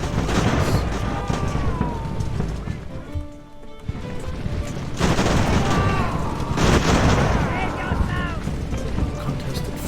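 Cannon fire in the Ultimate Admiral: Age of Sail naval battle game, heavy booming volleys layered with crackling shots and battle din, loud and dense, with a brief lull between volleys.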